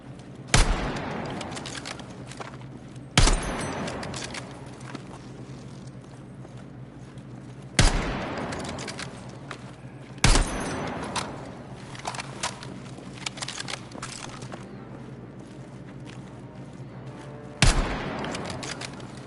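Loud single gunshots at a target in the Battlefield 6 beta, spaced a few seconds apart with sharp cracks and short reverberant tails, with faint shuffling and movement between shots.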